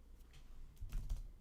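Keys clacking on a computer keyboard in a quick burst of a few faint taps, with low room rumble underneath and no talking.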